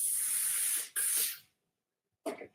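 A Lore Star steam iron hisses as fine steam is drawn through layers of quilting fabric on a vacuum ironing board: two loud, close bursts of spray-like hiss, a pause, then a short third puff.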